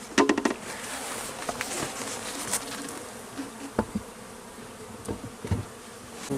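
Honeybees crowd the entrance of a freshly transferred hive, a dense, steady buzzing swarm close by with scattered sharp ticks and bumps over the hum.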